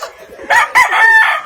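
Rooster at Moymoy's chicken farm letting out a loud, close crow in broken bursts, a sharp opening note and then a long drawn-out strained call, with no talking.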